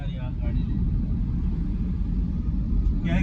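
Steady low engine rumble and road noise from inside a moving car heading home, continuous and fairly loud throughout with no clear speech.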